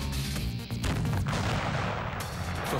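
An uncovered fiery bomb detonates in a blast test, a loud close boom with crackling, rumbling bursts that roll on continuously through the clip.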